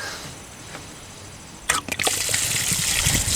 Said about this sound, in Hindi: जिससे कि जो भी फिल्टर में बचा हुआ पानी है वो निकल जाएगा